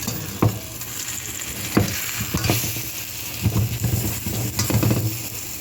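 Chapati flatbread fries in oil over an open fire with a continuous sizzle, broken by scraping stirs and occasional clinks of a utensil against the pan, close and moderately loud.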